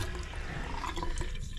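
Water runs steadily from a newly installed bathroom faucet in a cabin, a close, continuous splashing rush with some gurgling.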